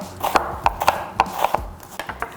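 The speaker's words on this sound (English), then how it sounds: "I'm just gonna give this a fine chop. Going to just slice it thinly." A knife thinly slices a small onion on a cutting board, making crisp, irregular chops that land close and fairly loud, with the blade knocking the board between cuts.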